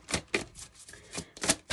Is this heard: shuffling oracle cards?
yes